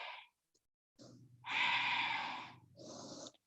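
A yoga instructor takes audible breaths during a hatha hamstring and core class, a sharp gasp, then a long loud exhale and a shorter breath, close to the mic with no talking.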